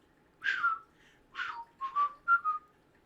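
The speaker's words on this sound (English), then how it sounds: "I can't tell what you're whistling." A person whistles "Always Look on the Bright Side of Life" in a few short, clear phrases with brief pauses between them, fairly close and alone without talk.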